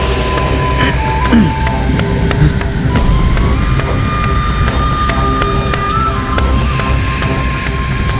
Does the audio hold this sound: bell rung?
no